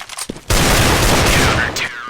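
Desert Eagle pistol fire on the Inferno map in Counter-Strike, a burst of loud, sustained gunfire and crackling shots filling most of the moment after a brief quieter lead-in, with commentary voices mixed underneath.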